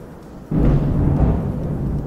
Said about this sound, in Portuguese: Dei uma pausa aqui por causa do trovão.